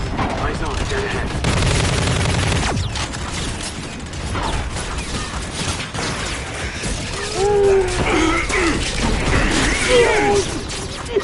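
Automatic gunfire bursts from the futuristic shooter Call of Duty: Infinite Warfare, loud and layered with game sound effects, explosions and clanking mechanisms, while combat radio voices talk over the action.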